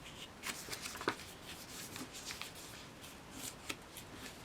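Sheet of paper folded and pressed flat by hand while making a paper throwing star, with soft crisp rustles and scrapes and a couple of sharper creases, close and quiet, no talk.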